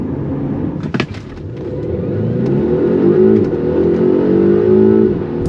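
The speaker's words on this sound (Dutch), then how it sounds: "Vrienden, ongelooflijk maar waar, we rijden in de Polestar 1." A 2021 Polestar 1 with 609 hp is driven on the road, with a loud steady engine and road hum that rises as the car accelerates and a brief sharp knock early on.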